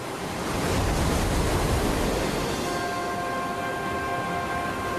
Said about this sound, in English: a line of surf rises out of the open ocean